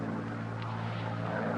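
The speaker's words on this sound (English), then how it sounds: "Putting the plane on autopilot." A propeller airplane flying on autopilot gives off a steady, loud engine drone with a constant low hum and a broad hiss, unbroken throughout.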